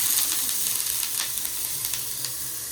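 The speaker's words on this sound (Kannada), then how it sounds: "ಆ ಸೇಮ್ ಫ್ರೈಯಿಂಗ್ ಪ್ಯಾನಿಗೆ ಸ್ವಲ್ಪ ಕೊಕೊನಟ್ ಹಾಕುವ" Grated coconut sizzles steadily in a frying pan for a traditional Tulunadu pathrode preparation, a dense close crackle with small stirring scrapes throughout and no talking.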